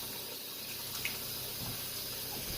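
Running water from a tap splashing into a bowl while ramen noodles are rinsed and worked by hand, a steady close wash with a few brief splashes and no talking.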